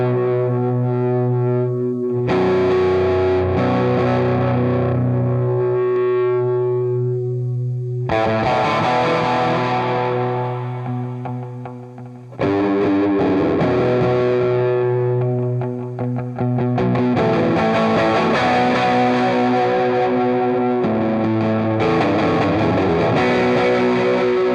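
Raunchy, dirty distorted electric guitar through a Fender Tweed amp, loud and sustained with chords ringing out, brief breaks between phrases, and no voices.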